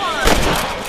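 A single loud rifle shot fired at rabbits in the video game Red Dead Redemption, a close, punchy crack with a short booming tail.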